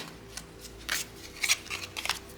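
Tarot cards are handled close up, with soft scattered flicks and a few brighter crisp slides and snaps, fairly quiet and free of talk.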